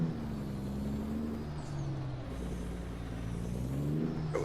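A diesel semi truck in American Truck Simulator, a Roman Diesel AV double trailer rig, pulls its trailer out with a steady low engine drone that rises slightly, continuous and close, with no talk.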